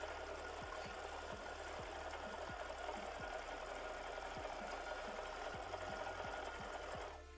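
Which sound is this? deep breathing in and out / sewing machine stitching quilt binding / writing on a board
sewing machine stitching quilt binding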